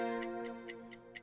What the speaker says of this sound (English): I also like the little, ticking sound that we got going on.